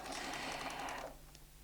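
A Bernina sewing machine quilting runs in a fast, even whir of rapid stitching for about a second, then stops abruptly, leaving a faint low hum.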